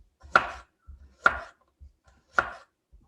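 A knife slicing through radish on a board, three crisp evenly spaced cuts with quiet handling sounds between them, close and clear.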